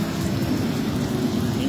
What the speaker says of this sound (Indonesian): Hingga saat ini hujan belum reda.